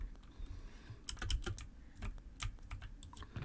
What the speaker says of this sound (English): I'm just holding shift and drag clicking